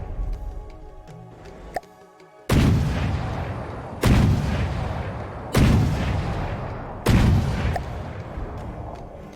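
Heavy weapon fire booms in From the Depths, four loud cannon-like blasts spaced a second or two apart, each with a long rumbling decay, after a quieter stretch of faint clicks.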